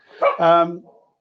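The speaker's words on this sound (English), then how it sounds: "Oh, here goes the dog, you see." A single dog bark, close and fairly loud, with a short yip first and then a longer tonal woof that trails off into quiet.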